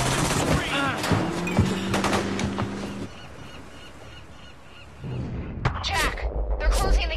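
Sniper gunfire in the video game Quantum Break, sharp shots and bursts mixed with game voices and a busy action soundtrack, dipping quieter for a moment before the shooting picks up again.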